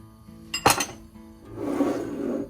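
A single bright clink of a utensil against a cooking pot, then a softer, steady scraping as butter is stirred and mixed in the pot for a churro batter.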